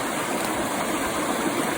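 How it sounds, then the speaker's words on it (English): Cold Alaskan creek, Automatic Creek, rushing over rocks in a steady close-up hiss of flowing water, continuous and fairly loud for a short moment. "I'm soaking my feet in the Automatic Creek, and it's damn cold"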